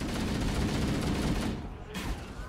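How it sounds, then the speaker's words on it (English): Dense, continuous gunfire in Halo: Combat Evolved, a loud sustained fusillade of rapid shots that briefly dips before surging again. "I almost shot a fellow Marine."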